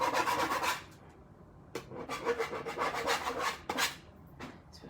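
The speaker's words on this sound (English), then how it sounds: "I like to take the edge of another plate and scrape them off into my bin" Rough, raspy scraping as the edge of one metal die-cutting plate is dragged across another to clear off thin vellum scraps, in three or four close, loud strokes separated by short pauses.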